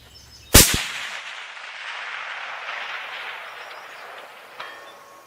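A 7mm Mag rifle fires with a sharp, loud crack at the start, followed by a long rolling echo across open range, and a faint distant thump of the bullet striking a target 1,000 yards away about four seconds later.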